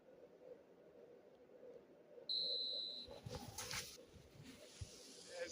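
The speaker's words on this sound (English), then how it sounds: "There's the whistle, and here we go." A referee's whistle at kick-off in the football video game eFootball 2026: one short, shrill blast rising over low stadium crowd ambience, followed by a swell of crowd noise.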